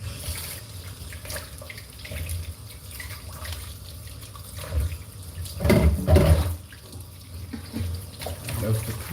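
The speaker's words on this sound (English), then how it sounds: "Let me just rinse out my hand" Tap water runs steadily into a sink as a hand is rinsed, swelling briefly louder mid-way as the hand moves under the stream, with a voice faintly present in the background.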